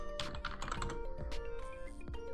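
Rapid computer keyboard typing with several sharp key clicks and shortcut presses, close and fairly loud over a steady background hum, with no talking.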